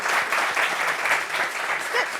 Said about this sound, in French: Ovation pour les courriers.